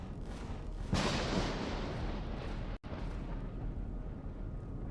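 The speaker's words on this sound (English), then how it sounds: "My guns are just shooting it" Ship guns in the Empyrion Galactic Survival video game fire at alien creatures, a dense, roaring stream of blasts with a sharp surge near the start and a brief cutout midway, loud and continuous.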